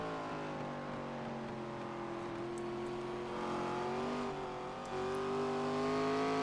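Race cars at Lime Rock run nose to tail uphill, a continuous layered engine drone with shifting pitches as several cars rev and climb, steady and moderately distant, without speech.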